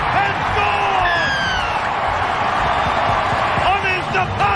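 A rugby league crowd roars for a Sharks try, loud sustained cheering with whoops and whistles, heard under an excited commentator's voice.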